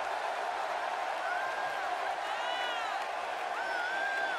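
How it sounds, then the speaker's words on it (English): Crowd noise from a WWE 2K18 Payback women's match between Mickie James and Natalya: a steady, dense arena roar that holds at the same level throughout, with scattered whoops and whistles rising above it. "And what about this crowd reaction"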